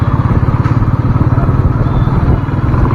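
A Royal Enfield Meteor 350 or Hness 350 motorcycle pulls in fourth gear, its single-cylinder engine thumping in a steady, loud, even rhythm throughout.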